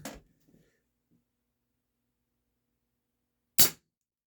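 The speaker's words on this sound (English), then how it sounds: "just go ahead and keep shooting" A Remington 1875 CO2 revolver fires two sharp, loud cracks several seconds apart in quiet surroundings, the first followed by faint mechanical clicks.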